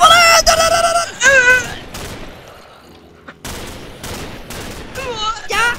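Rapid bursts of sniper rifle and gun fire ring out in a Minecraft game, loud and close, with a voice calling out between the shots.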